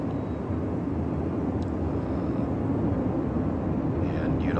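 A World of Warships spotter plane drones steadily through the whole stretch, a broad, continuous engine rumble with no talk over it.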